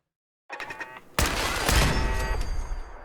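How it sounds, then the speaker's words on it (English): In Fallout 4, a minigun suddenly opens fire after a few quieter electronic beeps, unleashing a dense, continuous roaring burst of rapid gunfire that stays loud and close to the end. "Was that a minigun it was just shooting at me? Yes, that's a minigun."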